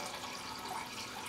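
Water draining steadily as soaked raw almonds are strained for homemade almond milk, a close, continuous splashing trickle with no speech.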